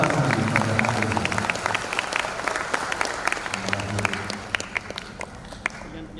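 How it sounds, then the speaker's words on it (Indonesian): An audience at a university graduation ceremony in Indonesia claps steadily. The applause is dense and sustained and fades slightly toward the end, and a voice is faintly audible beneath it. "Aplaus bagi yang berrepresentasi pada hari ini."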